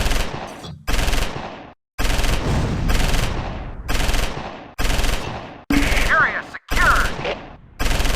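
Stuart tank machine gun fire in the World War II game Close Combat 4, set at Weiler in the Battle of the Bulge, comes as loud bursts of rapid automatic shots with brief gaps between them.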